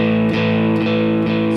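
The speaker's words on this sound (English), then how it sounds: "and that A sounds like this." Distorted electric guitar sounding its open A string, the low note of a blues power-chord pattern, picked about four times in an even pulse, each note loud and sustained, heard alone without talking.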